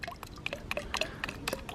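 Car clay lubricant concentrate poured into a bucket of water, a close, busy run of splashes and drips with bubbly liquid gurgles throughout.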